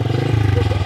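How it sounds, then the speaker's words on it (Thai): A young woman's fast motorcycle with a loud exhaust gives a steady, close, throbbing engine rumble for just under a second. "รถก็ซิ่งแท้รถผู้สาวน้อยเพิ่นนี่พี่น้องเอ้ยเนาะเสียงท่อดังแท้"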